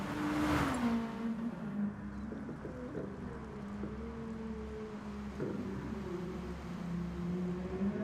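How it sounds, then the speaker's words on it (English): A touring car drifting during a practice session at a sprint race, its engine note wavering and sliding in pitch as it holds the slide, moderately distant with wind noise and no talk. "Spud there doing a bit of Tokyo drifting."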